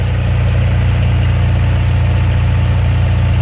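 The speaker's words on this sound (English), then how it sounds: "To me, that sounds almost like a newer generator" An engine running at a steady idle, close and loud, a constant low throbbing drone with faint vibration and no change in pitch, likened to a newer generator, with no voices.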